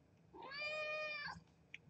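A single drawn-out cat meow, fairly soft and close, rising and then falling over a faint room hum, followed by a few small knocks.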